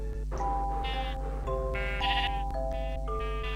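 Sheep in pens bleat in the video game Minecraft, several overlapping nasal bleats in quick succession, loud and close over a low steady game hum, with no talking.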